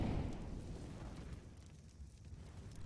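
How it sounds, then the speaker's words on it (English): A single gunshot in a Counter-Strike match opens with a sharp broadband burst, then trails off into a low rumbling decay, fairly faint and with no talk over it. "that gunshot unfortunately gave it away"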